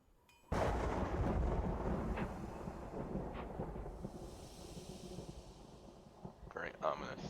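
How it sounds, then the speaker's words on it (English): A sudden loud thunder crash from a lightning strike, booming in at once and then rolling on as a long fading rumble that lasts several seconds. "Very ominous lightning strike there."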